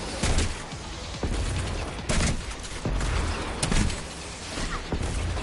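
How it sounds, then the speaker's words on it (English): A grenade launcher firing in the video game Destiny 2, several loud, heavy blasts at irregular intervals over a constant background din of game noise. "let's try this grenade launcher out"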